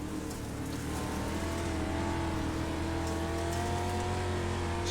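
Dirt-track race car engine on throttle at Fairbury Speedway, a steady loud drone of engines with rising pitch under constant crowd and track noise.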